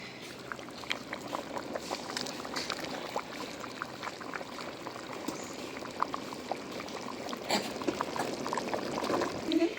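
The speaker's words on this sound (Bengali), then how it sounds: "খিচুড়িতে বলক উঠে গেছে।" Vegetable khichuri bubbles and gurgles in a pot as it comes to a boil, a steady close churning of liquid with occasional louder pops and no talking.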